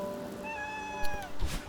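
A cat meows in the video game Celeste, a short rising-falling synthesized mew over steady game music, followed by brief soft thumps.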